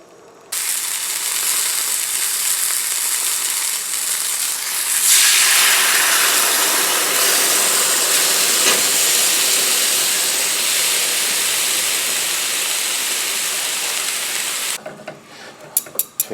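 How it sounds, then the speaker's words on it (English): Beef rouladen sizzle in hot oil in a pan, a loud, dense, steady hiss that swells when the meat goes in and runs continuously before some handling clatter at the end. "we are going to put it in that hot oil and we're going to brown up the sides of it"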